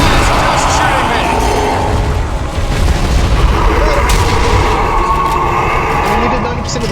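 Gunfire in the video game Sniper Elite: Nazi Zombie Army: loud, dense, rumbling shots and booms rolling continuously, with a player talking over them.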